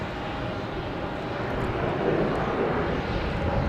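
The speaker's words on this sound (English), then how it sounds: "so now we have a JetBlue taking off, heading to Philadelphia" JetBlue jet airliner taking off at night from Logan Airport bound for Philadelphia, a loud continuous engine roar that swells slightly as it builds, with no voices.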